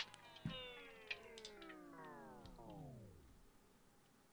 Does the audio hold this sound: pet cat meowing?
yes